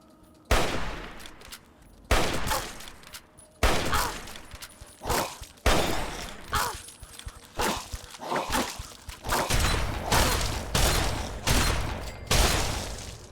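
Repeated loud shotgun blasts and gunfire during a firefight in the video game Fallout 3, roughly a dozen sharp reports spaced a second or so apart, with no talk over them.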